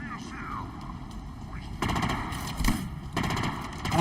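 Gunfire bursts in the shooter game Halo Infinite, loud rattling volleys starting about halfway through and continuing with sharp peaks, layered over steady game ambience and faint speech.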